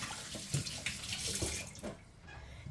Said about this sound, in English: So, wash the hands again.